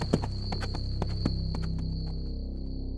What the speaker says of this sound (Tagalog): Mabilis na pinatakbo ng lalaki ang kabayo niya.